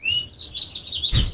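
Birds chirp in quick, high, bright twittering calls, close and fairly loud, with one sharp burst near the end.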